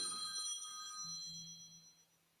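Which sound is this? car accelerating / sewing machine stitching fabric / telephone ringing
telephone ringing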